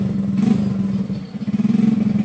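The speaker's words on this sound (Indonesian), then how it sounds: "ini motor sudah selesai, mau dicoba dulu" A repaired Yamaha Mio J scooter engine, its camshaft machined flat for a compression-loss fault, runs close by with a steady, loud putter that surges briefly near the end.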